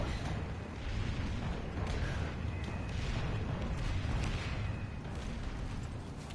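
Rapid weapon fire from an automatic gun in the sci-fi shooter Planetside 2, a dense run of booming shots blending into a loud continuous battle din.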